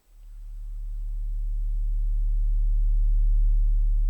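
A synth pad tone built in Ableton Drift for a lightsaber-style sound, pitched low, swells up smoothly from silence and holds as a steady, pure, humming drone with faint upper harmonics, loud and alone.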